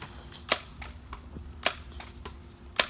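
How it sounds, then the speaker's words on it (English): A pump BB gun being pumped gives sharp, evenly spaced clicks about once a second, close and fairly loud over a quiet low hum. "We have to pump it about 10 times to get the good shot in."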